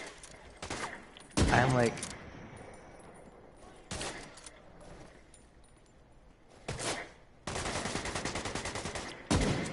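Bursts of automatic rifle and sniper fire in Division 2 open-world combat, loud rapid volleys separated by quieter stretches, with a player talking over the shooting.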